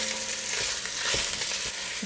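Crumbled sausage meat frying in oil in a pot for spaghetti meat sauce, a loud continuous close sizzle with small crackles and utensil movement throughout, no voices.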